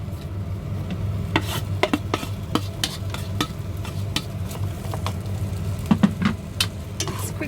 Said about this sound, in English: A different way to do our potatoes is going to be to fry them off.